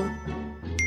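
A short bright phone notification ding rings out near the end after a soft rustle, clear and close, with no talk over it.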